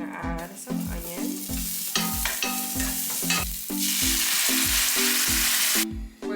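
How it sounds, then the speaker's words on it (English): Adobo sauce with onion sizzles loudly in a hot pan while a utensil stirs and scrapes in a quick, repeated rhythm, the hiss swelling to a steady roar near the end. "we're gonna fry up our adobo sauce that we made"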